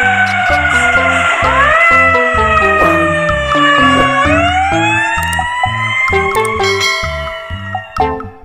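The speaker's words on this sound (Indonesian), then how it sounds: "ternyata ada mobil pemadam kebakaran" A fire truck siren in the video game Jurassic World Evolution wails loudly and continuously with rising, sweeping tones, layered over a bouncy synthesized game tune.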